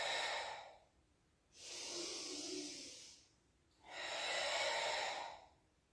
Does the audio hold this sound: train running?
no